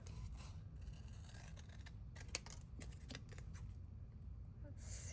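Scissors snipping paper in small, close fussy cuts, a cluster of quick crisp clips over a quiet room background.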